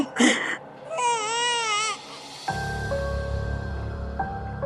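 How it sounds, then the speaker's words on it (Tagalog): An infant wails in loud, rising and falling cries that break off, followed by a steady tonal hum in a dim old room. "Gabi-gabi po akong hindi pinapatulog ng umiiyak na sanggol."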